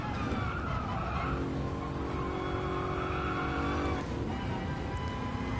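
A race car engine in Gran Turismo Sport climbs steadily in revs toward the redline in fourth gear, a loud sustained whine with rising harmonics and a brief dip around the shift point, no talking.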